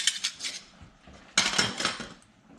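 Metal kitchen tongs clink and clatter as they are handled, two short bursts of bright metallic rattling heard close.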